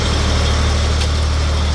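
Kirloskar 30 kVA diesel generator running under full load, a loud, steady, low engine drone with constant hum and no change in pace.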